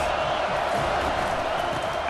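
Stadium crowd roaring in a college football video game, Florida State against Oregon, a dense continuous wash of cheering voices with a commentator speaking over it.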